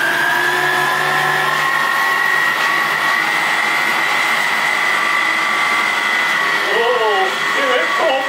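Electric meat grinder switched on and grinding meat, a loud steady motor whine that holds throughout, with a person's voice briefly toward the end.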